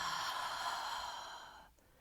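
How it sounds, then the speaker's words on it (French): A slow, deep exhalation through the mouth during a yin yoga relaxation, breathy and close, gently fading out after about a second and a half with no talk. "Et expire par la bouche."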